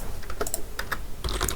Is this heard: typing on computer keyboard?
yes